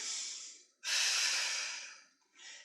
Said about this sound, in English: Breathe.